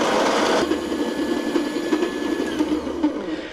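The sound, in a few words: coffee grinder grinding raspberry-flavored coffee beans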